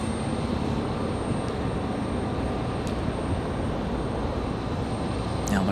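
Airplane at Raleigh Durham International airport, a steady broad engine roar held close and loud throughout, with no voices.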